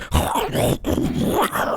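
A voice imitating the growling of two Allosauruses, a continuous rough throaty snarl with a brief break near the middle, close and loud.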